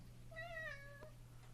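Pet cat Sprock gives a single drawn-out, rising-then-falling meow, close by and clear over a steady low electrical hum, with no talking.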